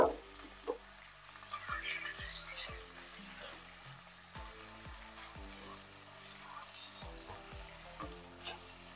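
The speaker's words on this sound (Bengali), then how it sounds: "এবার ঘি তেলের মধ্যে দিয়ে দিচ্ছি চালটাকে। 5 মিনিট মতো একটু নাড়াচাড়া করব।" Washed rice frying in ghee and oil while being stirred, a steady close sizzle with regular scraping strokes of a spatula across the pan, briefly louder crackle early on.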